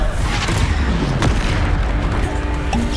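A Depulsor spell is cast in the Hogwarts Legacy video game, giving a dense, booming magical blast that rumbles steadily throughout with a sharper crack partway through.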